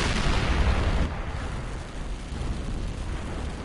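A heavy tank gun, the Maus in World of Tanks, fires with a loud, deep boom that rumbles and slowly fades into low battle noise.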